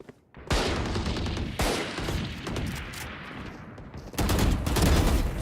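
Rapid bursts of video game gunfire, loud automatic volleys with short pauses between, the clatter resuming in a heavier stretch toward the end.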